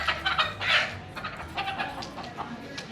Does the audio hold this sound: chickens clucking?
yes